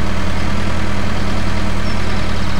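A small tractor idles in a farming video game, a steady low engine drone with an even rumbling pulse, loud and close throughout the short stretch with no talking.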